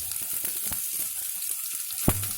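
Onions, about 200 grams, hit hot oil for a chicken fry and sizzle steadily in a close, continuous hiss, with a few soft stirring clicks and one sharp knock near the end.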